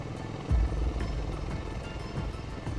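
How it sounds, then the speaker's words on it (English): A Marine Corps V-22 Osprey tilt-rotor aircraft flies at an air show, with a deep, throbbing rotor drone and periodic low thumps over steady broadband engine roar, moderately loud and continuous. "Part airplane and part helicopter, the Marine Corps V-22 Osprey is one of the more unique and versatile pieces of hardware"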